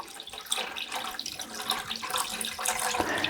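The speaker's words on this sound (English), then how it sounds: "So we're going to put in 4 liters of distilled water." Four liters of distilled water pouring into a container, a steady, close splashing rush with a gurgling, fluctuating texture that continues throughout.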